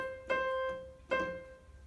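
A piano strikes a clear C note twice, each bright attack ringing and decaying, with a softer repeated touch between them, close and alone.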